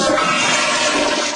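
A toilet flushes in a loud, continuous rush of water, close and steady throughout with no voices.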